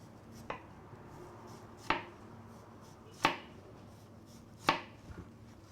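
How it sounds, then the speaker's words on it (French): A knife slices a red onion on a cutting board in four quiet, evenly spaced strokes, each a short sharp tap against a faint background hiss, with no talking. "on va émincer un peu l'oignon rouge"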